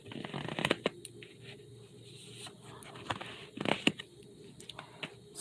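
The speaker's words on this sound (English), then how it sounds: "I'm gonna lay these cards out" Tarot cards shuffled and laid out by hand on a table, a run of soft riffling, sliding and papery snaps with a few louder slaps of cards set down, close and quiet, with no talking.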